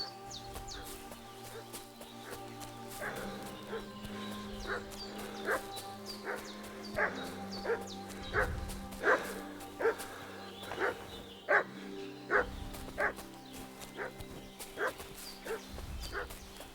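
Dog in the video game Kingdom Come: Deliverance 2 barking repeatedly in a steady rhythm at moderate distance, sharp yelps over a low ambient game drone, with no talking.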